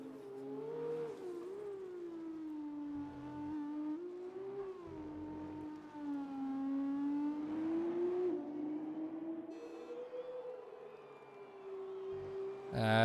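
F2 race cars racing at Marina Bay Street Circuit, Singapore, in a PC racing game: a continuous engine whine rising and falling through corners, steady and moderately loud, with no talking.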